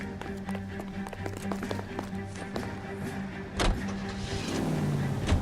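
Car driving in the 1940s Los Angeles crime game L.A. Noire, a steady engine hum with scattered ticks and taps, and a louder thump partway through before the motor drone swells slightly toward the end.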